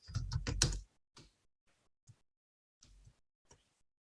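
Keystrokes on a computer keyboard while a paragraph is typed into a Microsoft Word document, a dense run of close clicks at first, then sparse, isolated taps separated by silence.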